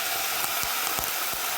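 Mutton hits a hot pan and crackles in a steady, dense sizzle with a few soft thumps and stirring knocks underneath, close and continuous for under two seconds.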